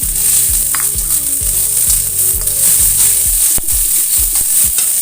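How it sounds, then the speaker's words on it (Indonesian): Loud close sizzling of long beans stir-frying with mushrooms and vegetables, with a regular rhythm of spatula strokes scraping the pan throughout. "Tumis sebentar. Lalu kemudian masukkan kacang panjangnya."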